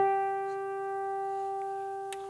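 A single guitar harmonic chimed on the 12th fret of the G string rings as a pure, bell-like tone, sustained and slowly fading, with a faint click near the end.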